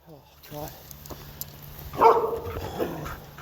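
Dogs barking in a haunted harvest video game, a few sharp yips and barks rising out of game ambience around a talking voice, loudest in a burst near the middle.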